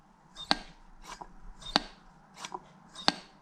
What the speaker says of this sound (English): it has a kind of nice swooshing sound